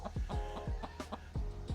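A storyteller's voice imitates the rapid clucking of a magic chicken named Geoffrey, a run of short throaty clucks and squawks at an uneven rhythm, close and fairly loud.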